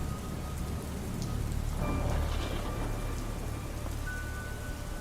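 Steady rain falling and pattering on a surface, a continuous close hiss with a brief swell near the middle and no voices.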